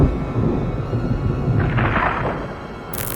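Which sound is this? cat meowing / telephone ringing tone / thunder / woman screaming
thunder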